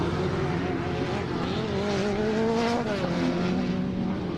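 Troy Cox's racing truck rejoins a short-course dirt track and runs near top speed, a distant engine whine rising and sliding in pitch amid steady track noise, with no talk.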